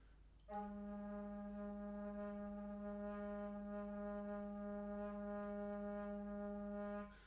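A single sustained Romanian kaval note, G sharp, held steadily for about six and a half seconds, soft and breathy with rich overtones, no voices.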